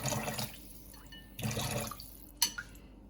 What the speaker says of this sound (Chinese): And a little bit of water.